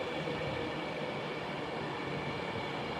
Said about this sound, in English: Got a Avanti West Coast arriving there, down to Euston